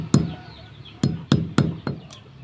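Five sharp metallic hammer blows strike construction nails to straighten them. A single strike comes first, then four more land in an uneven rhythm, each ringing briefly before fading, close and loud.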